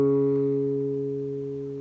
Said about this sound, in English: I need the ring finger to go to the 4th fret of the A string